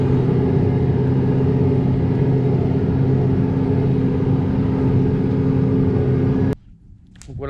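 Deutz 6120 TTV tractor engine drones steadily at close range while running the conveyor on a manure spreader, a dense even rumble that cuts off abruptly near the end, leaving only faint low noise.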